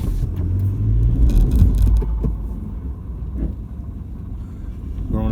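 A 4WD car grinds up a steep, rough forest track in Wombat State Forest near Blackwood, its engine a steady low rumble heard from inside the cabin, swelling briefly with some knocks and jolts, with no talk.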